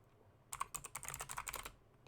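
Quick typing on a computer keyboard, a short burst of close, clicking keystrokes lasting just over a second in a quiet room.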